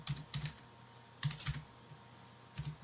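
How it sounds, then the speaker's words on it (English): Three short bursts of computer keyboard typing, quiet and close, with brief pauses between the clusters of keystrokes. "type in my name and password"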